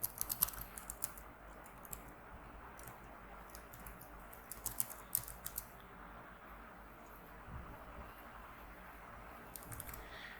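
Keys on a computer keyboard are tapped in quick, irregular bursts, close and fairly soft, with short pauses between runs of strokes.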